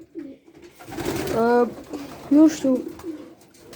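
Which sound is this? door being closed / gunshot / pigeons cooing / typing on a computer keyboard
pigeons cooing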